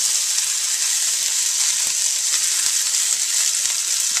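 Rice frying for kale fried rice, a steady close hiss and sizzle in a hot pan, loud and unbroken with faint stirring scrapes.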